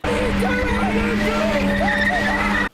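A stunt car reverses hard in a full-lock circle, tires squealing continuously and loudly for nearly three seconds over a steady engine drone, ending abruptly.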